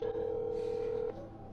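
A telephone tone from a recorded call to a storage unit holds one steady pitch for about a second, then drops to a fainter line hum.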